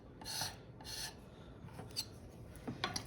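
Excess printmaking ink is scraped off a surface in a few short, faint rasping strokes, with quieter scratchy rubbing between them.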